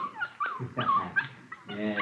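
A puppy in a radio drama gives a series of high whimpers and yips close to the microphone, with brief human voices mixed in among the cries.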